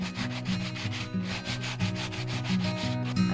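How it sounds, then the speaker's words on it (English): Rust spots on a VW T4 camper van are sanded down with a steady, loud, rhythmic rasping, strokes repeating roughly every third of a second with a droning motor hum underneath and no talking. "First we've got to sand down all the rust spots"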